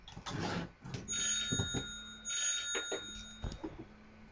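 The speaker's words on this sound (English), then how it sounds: "Phone was ringing." A telephone rings several times in repeated bursts, its bell tones fairly clear against a quiet room, with short gaps between rings.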